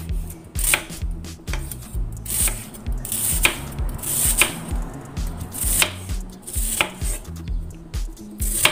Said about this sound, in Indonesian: iris ya ini ya, jadi mengirisnya seperti ini,